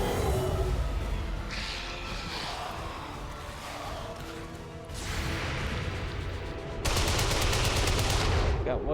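Rapid gunfire bursts in the XCOM video game, with loud repeated shots and a busy battle bed of crashes and whooshes, a sharp rattling volley near the end.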